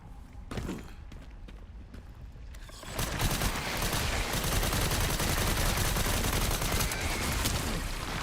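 Gunfire in the video game Resident Evil Requiem erupts after a few seconds of quieter ambience, becoming a dense, sustained barrage of rapid shots that stays loud until the end.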